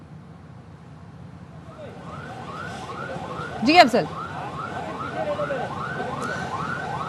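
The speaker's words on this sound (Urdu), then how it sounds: "ایک اور فائر بریگیڈ کی گاڑی آئی ہے" A fire brigade vehicle's siren at a large fire in Karachi wails in a steady repeating up-down cycle at middle distance while someone talks over it. A brief louder burst cuts in partway through.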